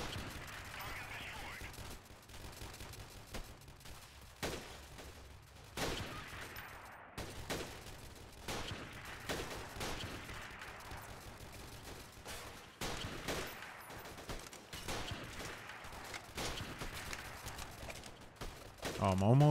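Gunfire from the game Freeman: Guerrilla Warfare, sharp bursts and single shots scattered across a busy, loud mix with talk running throughout.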